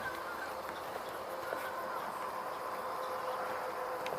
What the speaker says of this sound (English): Or Canada goose, or two in the air.